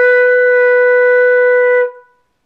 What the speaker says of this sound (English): This is how to play the note B, also known as C flat, on the flute in all three octaves.